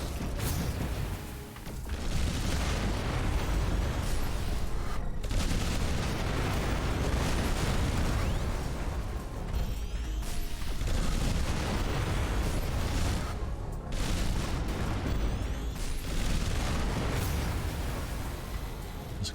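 Sustained barrage of artillery fire and explosions in the sci-fi game The Riftbreaker, dense rumbling booms and bursts rolling continuously with only brief dips, loud and close.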